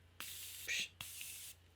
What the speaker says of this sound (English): I think I would need to do another layer of setting spray and then do this.